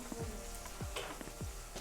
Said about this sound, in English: Well, what are you frying?